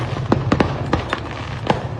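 Fireworks going off in accident footage, with a series of sharp cracking bursts scattered unevenly over a steady low rumble, fairly distant.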